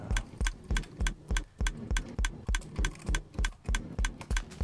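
Regular, evenly spaced clicks repeat about three times per second throughout, crisp and close, as a mouse button is spammed to run a Minecraft pale oak tree farm.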